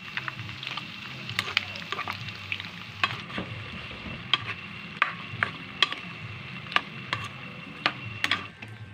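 Pancit canton stir-fried with chorizo and chicken balls in a wide basin, a steady sizzle under repeated sharp metallic clinks and scrapes of the spatula striking the pan in an irregular rhythm, close and fairly loud.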